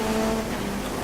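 A racing car engine in a video game race drones steadily and loudly, a continuous buzzing engine tone with no break over the short moment.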